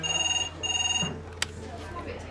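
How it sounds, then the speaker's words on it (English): A red emergency phone rings in a hospital emergency department with two bursts of a warbling electronic trill, then a click as it is picked up, while staff talk in the background. "because the red emergency phone has rung again"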